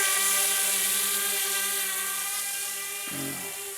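High, whining buzz of the Maiden VTOL X450 RC aircraft's electric motors in drone mode, a steady close drone with strong tonal harmonics that dips slightly in pitch as the throttle eases near the end, with no talk.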